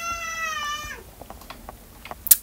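A pet cat gives one long, clear, close meow, followed by quiet scattered taps and small clicks, with no talking.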